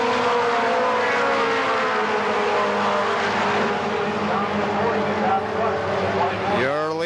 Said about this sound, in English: They pick up the throttle out of turn 4.